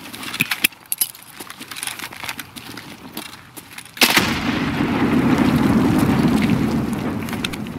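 A thrown grenade in the shooter game Escape From Tarkov, light clicks and handling noises followed by a sudden loud blast and a long rumbling roar of the explosion.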